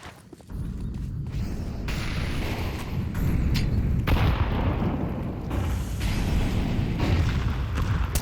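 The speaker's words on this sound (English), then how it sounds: "a lot of nades going down early does allow Micro to pick off Laxi going into" Grenades explode one after another in Counter-Strike on Dust2 during an Eagle Masters match, forming a dense, continuous barrage of loud, low booms with scattered sharper cracks and no pauses.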